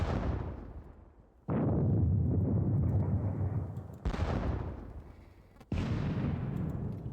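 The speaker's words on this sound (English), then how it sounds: "Have the guns open fire as usual." Artillery guns fire in a computer wargame of the Jena campaign: three loud, booming blasts, each followed by a long rumbling decay, with the later two shots coming close together.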